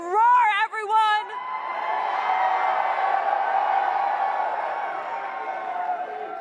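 A live esports crowd at the SMITE World Championship semi-finals cheers and whoops loudly for player Aror, a sustained roar that swells after an opening burst of shouts and fills the whole stretch.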